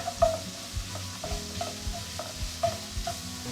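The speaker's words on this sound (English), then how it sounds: "Sausage is browning." Sausage browns in a pan with garlic, giving a steady sizzle and frying crackle broken by several soft stirring scrapes and knocks, close and fairly quiet, with no talking.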